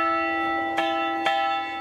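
A roughly 250 kg bronze carillon bell for Chambord castle sounds the note E, sustaining a steady ringing hum struck twice more in quick succession, clear and close with no voices.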